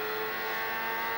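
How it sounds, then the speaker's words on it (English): Robbie Gordon's turbocharged 1996 IndyCar engine at Mid-Ohio, heard from on board as a loud, continuous high-pitched drone holding a steady note, with no talking. "Robbie Gordon's engine still sounding as if it's got the requisite number of cylinders"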